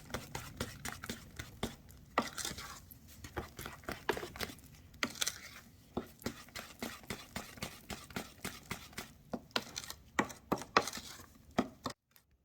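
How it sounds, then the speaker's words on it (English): Egg whites beaten by hand into a chocolate mixture for a French chocolate cake, heard as quick, irregular soft tapping and scraping of a utensil in a bowl, close and fairly quiet, with no talk. "add it into the chocolate mixture, and you're going to beat that in very carefully"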